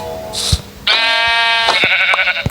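A sheep in the Minecraft modpack From the Fog gives a loud, close, drawn-out bleat with a wavering pitch, framed by brief game clicks and thumps.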